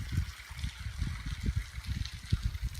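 Steady rushing water from a cliffside waterfall, one of four at the spot, runs as a continuous low, churning wash with rippling surges and no voices over it.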